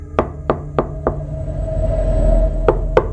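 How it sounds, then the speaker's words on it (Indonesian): Impatient pounding on a rickety bathroom door at a mountain hiking site, four sharp loud knocks in steady rhythm, a short pause, then two more, close and alone. "gedoran tidak sabar dimulai lagi"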